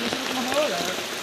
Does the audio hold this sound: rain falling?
yes